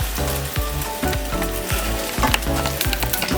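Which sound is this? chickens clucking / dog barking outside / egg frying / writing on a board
egg frying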